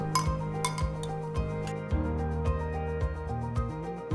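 A spoon clinks repeatedly against a cup while stirring grated jaggery into lemongrass tea, about eight regular taps over a soft background tone, close and fairly quiet, with no talking.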